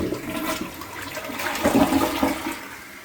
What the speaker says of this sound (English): actually looks like we got a nice, good, powerful flush there